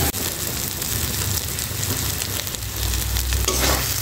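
Dried fish (shutki) sizzles and crackles loudly in a hot pan, a dense continuous frying hiss with scattered pops that swells slightly toward the end, no voices.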